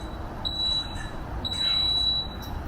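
A workout interval timer for a Tabata session sounds two thin, steady electronic beeps, one short and one held for about a second, over a low background rumble.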